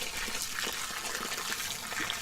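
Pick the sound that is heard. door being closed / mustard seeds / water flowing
water flowing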